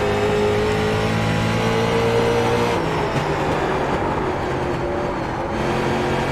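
Street stock race cars lap a circuit in the iRacing simulator, their engines holding a loud, steady drone with shifting pitch as they run close together.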